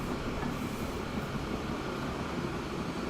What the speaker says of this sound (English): Trains going everywhere.